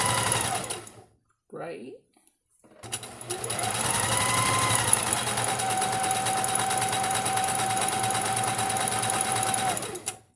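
A sewing machine stitches a patchwork quilt square in a long, steady, close run after a brief burst and a pause, with a voice speaking briefly near the start.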